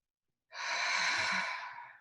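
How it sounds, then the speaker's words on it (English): A single long sigh-like exhale during EFT tapping, sudden and steady, close and clear, then tapering off, with no talking. "And then breathe."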